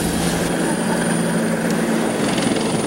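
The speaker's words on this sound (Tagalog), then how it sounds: "lumapag sa Villamor Air Base ang 2 military helicopter, sakayan 3 anak at mga apo ng dating Pangulo" Two military helicopters touching down at Villamor Air Base, their steady rotor and engine roar filling the air continuously at close range with no voices.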